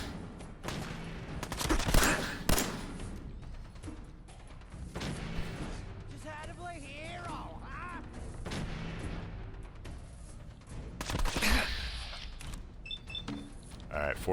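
Gunshots ring out in Fallout 4, a few sharp cracks and booming reports scattered among game ambience, mostly moderate in level with a couple of louder peaks.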